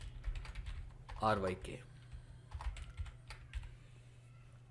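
An address being typed on a computer keyboard, a quick close run of light key clicks with scattered single taps after it, and a short stretch of voice partway through.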